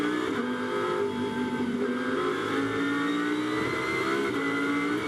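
A GT race car powers out of a right-hand corner at the Nürburgring, its engine note loud and sustained as it revs and climbs through the gears.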